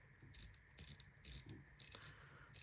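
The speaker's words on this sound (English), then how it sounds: "And the ratcheting works fine" Rapid bursts of clicking from the ratchet mechanism of an N-Power fidget spinner by Ant Design, several short clattering runs separated by brief pauses, close and crisp with no talking.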